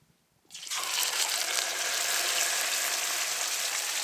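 A salted fish dropped into a pan with a lot of hot oil on a wood stove at a wilderness camp, erupting into a loud, dense, steady sizzle that holds constant and close without talk.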